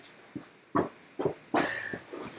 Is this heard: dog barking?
yes